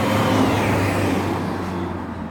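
A car drives past on a road outside the tunnel entrance in Ravne Park near Visoko, Bosnia, a steady close engine rumble and tyre roar that slowly fades as it moves away.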